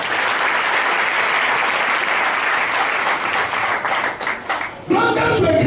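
A church congregation applauds loudly and steadily, a dense wash of clapping that dips briefly near the end and then surges again.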